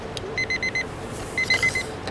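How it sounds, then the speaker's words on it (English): A small timer alarm beeps in two bursts of four quick high-pitched tones, set against a quiet room during a live chess lesson. "The little button, the little timer told me that time is up."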